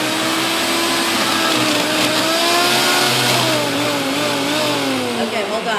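A food processor blends a spicy cheddar dip of cheese, mayo, sour cream, garlic and spices, its loud steady motor whirring close and continuously, with the pitch shifting slightly as the mixture churns.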